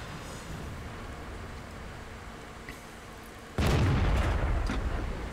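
A tank cannon fires in a tank video game, a sudden loud boom that breaks in after a steady engine-like rumble and then trails off in a long rolling decay.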